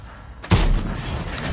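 A tank cannon fires in World of Tanks, one sudden heavy boom followed by a rumbling decay, loud and close with no talking.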